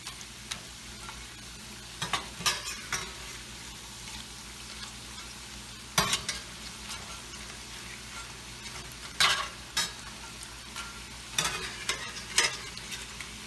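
Tortilla pieces sizzle steadily in a hot pan, with repeated scraping and tossing strokes bursting out at irregular intervals over a constant frying hiss; no voices.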